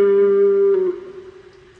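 Single sustained electric guitar note in a blues lick, bent and released on the D string, ringing clearly then dropping in level and fading out, no voices.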